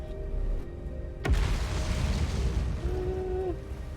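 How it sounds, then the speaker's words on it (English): A single deep, heavy boom in the video game Outer Wilds hits sharply and then rolls into a long rumbling decay, set over a steady low ambient hum with a faint rising tone near the end. "don't like the booms"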